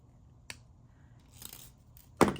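Small cutters snipping bent jewelry wire on a necklace with Coreana chain, a soft click partway through, then one crisp, close snip at the end of a quiet stretch.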